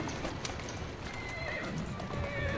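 A horse in Assassin's Creed Syndicate clip-clops steadily at speed while a drawn-out whinny rises over the hoofbeats, with dense game ambience underneath and no clear talk.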